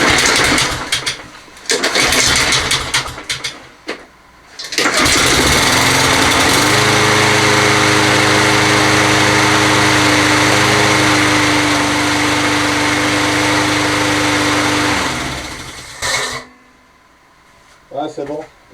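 Toro 20782 lawn mower fitted with a swapped Honda engine, running with a smaller carburetor jet: a loud, steady engine drone with a held hum that settles after a rough start, with brief talk before and after.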